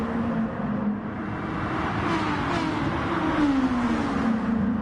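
Several race car engines drone and whine together during an endurance race at Kyoto in GT Sport, steady and loud with pitch sweeping up as cars accelerate, and no talking over them.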